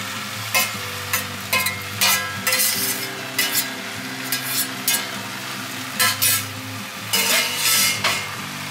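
Precooked Maggi noodles being tossed and stirred in a frying pan at home, with steady sizzling under repeated scraping and clinking strokes of a utensil against the pan, close and fairly loud.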